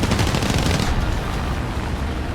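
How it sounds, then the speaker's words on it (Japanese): Rapid machine gun fire from a formation of Grumman fighters in War Thunder, a dense continuous burst of loud overlapping shots. It crackles without pause, thinning slightly toward the end. "高度優位を得たグラマン編隊から猛烈な射撃を受けることとなった"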